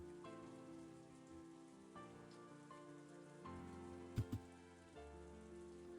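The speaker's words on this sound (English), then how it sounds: "This is all a rhapsody of blowing winds and pouring rain performed by the typhoon." Steady typhoon rain from the video game Umineko When Seagulls Cry pours on a surface in a dense, continuous wash, with a low musical drone underneath and two brief sharp knocks near the end.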